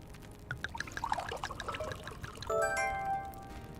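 Prosecco pours into a glass in the Vacation Cafe Simulator, a short trickling splash that is followed by a bright ringing chime.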